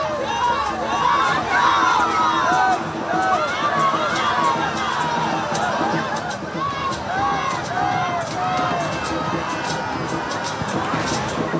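A large crowd at Mamata Banerjee's rally in Bankura roars continuously, with dense cheering, shouting and babble that stays loud throughout.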